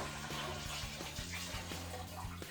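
Water poured in steady splashing for sparging in all-grain New Zealand IPA home brewing, a continuous close gush with faint bubbling, no talk.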